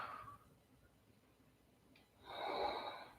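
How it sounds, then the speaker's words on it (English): Breathing during Ashtanga yoga practice: a faint, airy exhale at the start, a quiet pause, then a longer, louder breath through the nose near the end, heard up close. "5 more breaths. Breathing for 1,"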